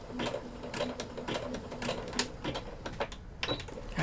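A sewing machine stitches fabric in short bursts with rapid mechanical clatter and a faint motor whine, close by, with brief pauses between runs.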